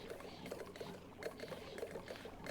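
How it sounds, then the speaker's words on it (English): Polluted water pours off a ledge in the space-colony game Oxygen Not Included, a soft continuous splashing trickle with faint repeated droplet plinks, quiet and steady. "polluted water is flowing off of that side"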